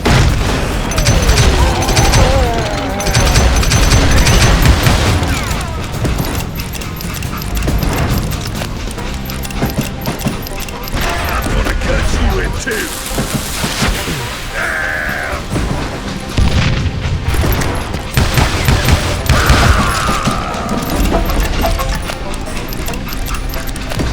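Gunfire in the Western shooter Call of Juarez: Gunslinger: dense, loud, repeated shots and booms throughout a chaotic battle, with clattering effects and horse sounds mixed into the noisy soundscape.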